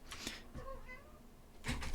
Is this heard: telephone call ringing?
no